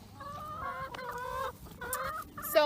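A laying flock of hens inside chicken tractor trailers clucks and squawks nearby in overlapping bursts, rising to a sharper, louder cackle near the end.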